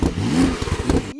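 Porsche twin-turbo flat-six engine revving, a brief rising and falling throaty growl with rumbling pulses, close and loud, cutting off abruptly.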